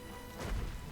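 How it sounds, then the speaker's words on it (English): Smashing in the video game Sam and Max The Devil's Playhouse, a single heavy crash with a deep thud over a constant noisy background, brief and moderately loud. "pointlessly smashing everything in sight"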